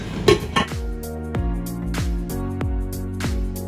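A metal lid clatters onto a pot of frying Nigerian pepper stew with a few sharp clinks, followed by a ringing metallic hum that rings and fades after each tap.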